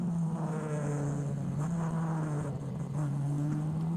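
Onboard view of race cars circling a track: a continuous close engine drone with a wavering pitch under faint higher whine, steady and without talk.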